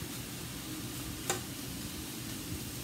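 Tofu fries in a skillet over medium heat, a continuous soft sizzle with a faint crackle and one brief sharp tick partway through.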